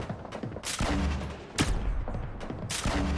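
Gunfire in the Fortnite video game: repeated bursts of rapid shots, loud and close, with short pauses between volleys over constant in-game background noise.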